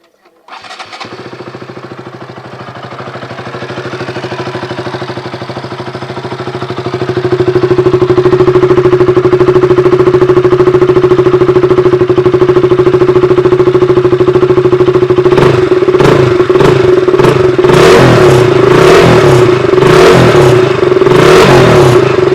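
A KTM RC 200 BS3 motorcycle engine cranks and catches, settling into a steady close idle that rises in loudness, then is revved in several sharp repeated blips near the end.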